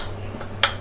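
A utensil stirs a tomato and basil bruschetta topping with olive oil, salt and pepper in a bowl, giving one sharp clink against the side over a low steady hum.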